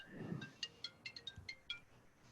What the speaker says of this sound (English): What's that? That's my phone.